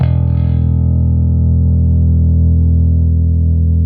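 A Fender Custom Shop Dale Wilson Masterbuilt '70s Jazz Bass sounds its open E string as one loud, sustained note. Rich harmonics ring above the low fundamental, with an effects-processed, slightly distorted edge, and no voices.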